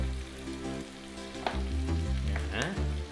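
Chicken feet fry in a pan with sweet soy sauce, a steady sizzle with a few clanks and scrapes of stirring close by, under a persistent low hum.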